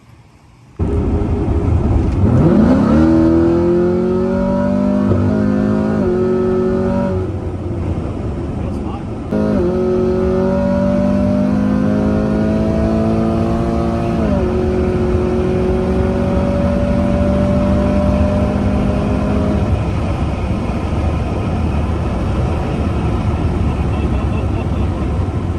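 A nitrous-equipped Camaro with aftermarket cam and heads cruising a canyon road, its engine loud and close, climbing in pitch through several gear changes with brief dips between shifts and a sustained drone.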